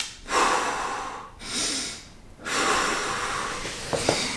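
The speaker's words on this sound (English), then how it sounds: "I just lay down on my back and I practice belly breathing" Slow belly breathing by a person lying on their back during a recovery session, with three long, close breaths, each a soft airy inhale or exhale separated by brief pauses, plus a couple of faint clicks near the end.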